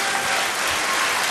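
Audience applause for actor Gyula Bodrogi at a music awards ceremony, a dense, loud wash of clapping hands sustained evenly throughout without any voices.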